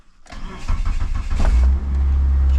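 A car engine cranks and catches, then settles into a loud, steady idle with a strong low rumble; the car came in with a fault that blew its fuses and runs with heavy vibration.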